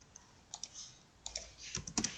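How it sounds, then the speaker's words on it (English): Numbers being typed into a calculator: a handful of quick, light key clicks, irregular and close, some in short bursts, against a quiet background with no talking. "this needs to be typed into the calculator"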